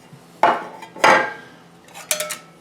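Integral pot of an Optimus 99 backpacking stove being handled: two sharp metallic clanks about half a second apart, then lighter rattling taps, close and fairly loud with a brief ringing tail, no talking.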